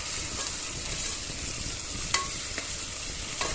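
Chicken curry ingredients fry and sizzle steadily in a pan, with a constant crackling hiss and a few soft scrapes as they are stirred, moderately close and with no talking.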